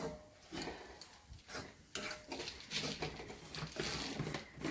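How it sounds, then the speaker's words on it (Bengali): A metal spatula keeps stirring grated coconut in a dry pan with no oil, giving soft, irregular scraping and pattering strokes close up, with no talking. "আমি শুধু খুন্তা নাড়ছি"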